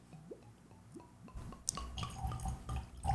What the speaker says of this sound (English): I am just going to pour a little bit in here.